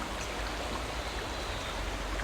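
Fast-flowing water in a trout stream, a steady, loud broadband rush and splash close by with no breaks, heard alone.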